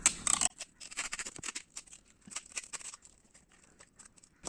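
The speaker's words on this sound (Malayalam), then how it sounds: "കൂട്ടി യോജിപ്പിക്കാനായിട്ട് സെല്ലോ ടേപ്പ് ഉപയോഗിക്കുകയാണ്." Cello tape pulled and stuck onto a box for stingless bees, sealing its joints: a loud rip and crinkle of the tape at the start, then a run of quieter soft crackles and taps close by.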